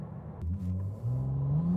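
A 2023 Ferrari 296 GTB accelerating hard toward 100 km/h, its engine note climbing steadily in pitch through a brief shift, loud and close with no talking.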